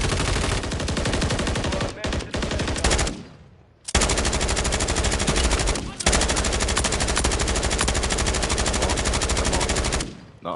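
Loud, rapid automatic gunfire in a Call of Duty match, sustained bursts broken by two short pauses, dense and close throughout.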